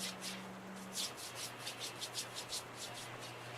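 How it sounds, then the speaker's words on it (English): Quick dry rubbing of hands pressed together for friction, a rhythmic series of soft brushing strokes, close and quiet over a low steady hum. "We're just going to rub our hands together, creating a lot of friction"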